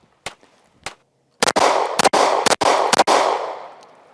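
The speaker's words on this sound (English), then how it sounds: "Just a smooth shooting gun." Gunshots from an AF-1 Strike One 9mm pistol: two faint early reports, then a rapid string of about five loud, sharp cracks, each followed by brief echoing decay.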